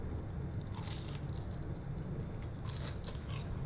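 Crunchy fried chicken being bitten and chewed close up, a steady stream of crisp crackling crunches with sharper bursts of breaking coating, no talk.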